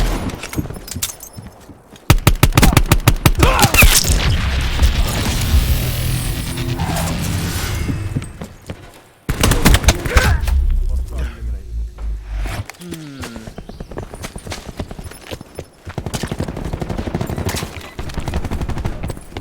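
Rapid bursts of video game gunfire, including shotgun blasts, crack loudly in dense volleys with short pauses between clusters, while someone talks over the action.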